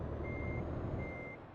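Truck reversing alarm in Euro Truck Simulator 2, two steady electronic beeps over a loud, constant engine and road rumble.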